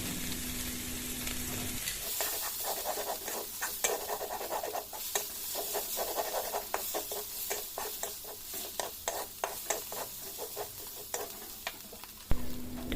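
Vegetables frying in a pan while being stirred, a steady sizzle broken by repeated scraping strokes of the spatula, close and continuous for the whole stretch.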